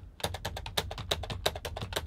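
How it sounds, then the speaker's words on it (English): Fingers tap rapidly on a computer keyboard in a room, a steady run of crisp, close clicks with low background music underneath. "if I'm tapping on a keyboard"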